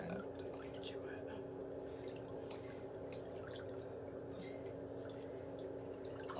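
Water splashes and trickles over feet in a pedicure tub during a nail drill damage recovery treatment, a continuous dripping and pouring with scattered droplets, heard under soft nearby conversation and a low mechanical hum.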